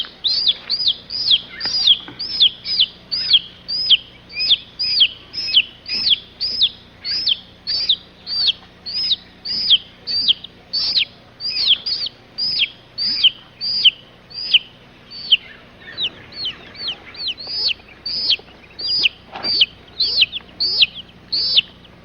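A chicken calls over and over, each bright chirping cluck coming in a steady, regular rhythm for about twenty seconds, loud and close, with no voices.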